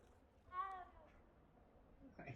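A single short cat meow from a video game rises briefly and fairly softly above a quiet background, followed by a faint trailing noise.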